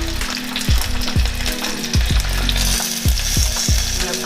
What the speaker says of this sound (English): We're going to let that fry